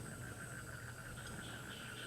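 Frogs in the god game Reus keep up a soft, continuous chorus of croaks and trills over a steady ambient background, with nobody talking.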